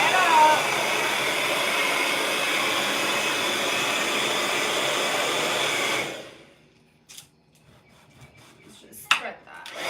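A hair dryer blows steadily and loudly for about six seconds while drying a prep coat on an art canvas, then cuts off, leaving faint handling noises.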